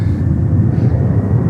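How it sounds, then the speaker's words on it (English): A Delta Boeing 767 airliner taking off at JFK, a loud, steady low roar of jet engines close by, with no gaps. "And next takeoff is Delta 767 to Honolulu, Hawaii."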